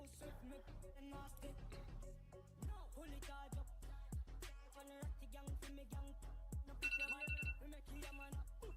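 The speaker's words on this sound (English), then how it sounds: "that's my 2 p.m. alarm" A phone alarm rings in a looping, repeating melodic tone pattern, fairly loud and steady, with rhythmic percussive beats underneath; no talking.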